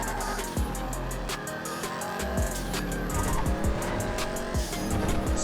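Car driving in GTA V Online, with a steady engine roar, repeated tire squeals and skids, and small bumps over about five seconds, loud and continuous with no talk.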